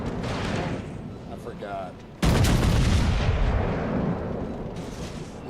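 Warship guns fire in World of Warships as a sudden loud, heavy boom that rolls into a sustained rumble, following a stretch of game noise with someone talking over it.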